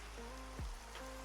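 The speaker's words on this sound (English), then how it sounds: "I don't usually get to see a rainy night, but this is actually quite peaceful" Steady rain falls at night in the video game Minecraft, a soft, even hiss of drops that carries on throughout, with a faint low thump partway through.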